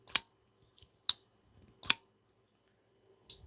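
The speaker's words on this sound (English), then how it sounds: "the sound that it makes whenever you open it, I got like almost a metallic thwack" A Herman Knives Sting folding knife blade snapping open, four sharp, close metallic thwacks spaced about a second apart against near silence.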